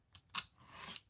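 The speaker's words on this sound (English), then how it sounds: "If you didn't manage to align it, you can always trim the axis." Scissors trim the paper of a calendar craft, a few quick faint snips followed by a longer soft cut through the paper, close and quiet.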